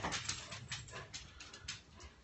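A dog named Bella whimpers and whines in short repeated bursts, close by, against a rushing background of a heavy windstorm.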